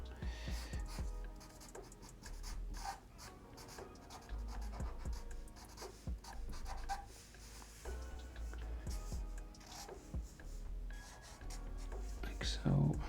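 A Sharpie marker draws lines on paper for a JoJo's Bizarre Adventure sketch: soft, close scratchy strokes come in repeated bursts while a person talks quietly over them.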